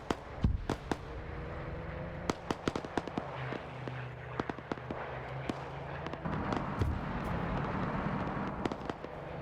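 Artillery fire mission in a WWII video game: a steady rumble of repeated sharp booms and cracks, some near and loud, others distant, scattered irregularly across the scene with a low droning hum beneath, no talk.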